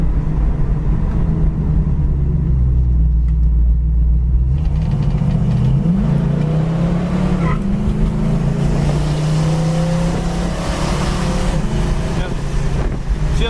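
A 1973 Dodge Challenger engine drones loudly from inside the car while driving, with audible rev changes as it shifts up through the gears, wind buffeting the microphone throughout.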